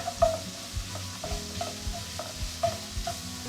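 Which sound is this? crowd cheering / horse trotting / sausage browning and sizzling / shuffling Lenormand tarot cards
sausage browning and sizzling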